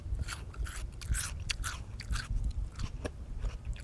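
Crunchy bites and steady chewing of a raw yacon tuber, close and wet, with repeated crisp crunches in an irregular rhythm and no talking.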